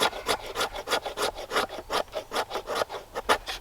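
A new knife scraping across a wooden surface, a steady series of rhythmic rasping strokes, about four per second, close and even in loudness, with no voices.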